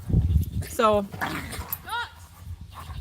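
Pet dogs playing nearby, with a whiny drawn-out yelp and a couple of short whimpering yips, mixed with someone briefly speaking.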